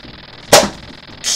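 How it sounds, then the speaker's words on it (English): A single sharp cartoonish gunshot effect from a Sonic the Hedgehog 3 game session, loud and bright, followed by the start of another burst near the end; no talking. "Celebrating by opening fire."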